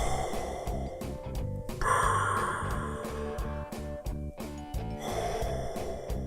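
A person imitates Darth Vader's breathing with a mechanical, rasping inhale and exhale cycle. The breaths are close and steady and repeat over a dense musical background.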